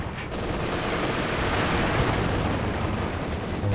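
Howitzer and heavy mortar shells land in Company of Heroes 2, a loud continuous barrage of overlapping explosions and gunfire-like crackle that barely lets up.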